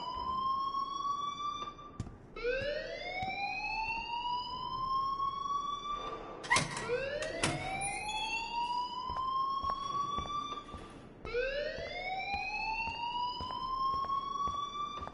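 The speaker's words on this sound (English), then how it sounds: "please turn off that alarm since that's your job" A school fire alarm from the game Life is Strange wails in repeated rising sweeps, each climbing and holding, steady and loud with no talk.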